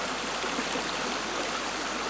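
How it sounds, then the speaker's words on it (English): Small amount of water cascading down ancient rocks, a steady, close, full rushing splash that holds at an even level throughout with no other sounds. "a small amount of water cascading down some ancient rocks which have seen more of the world than I ever will"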